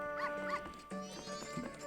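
A dog barks in the Majora's Mask video game, two quick synthesized barks followed by a couple more softer yips and whimpers over game music.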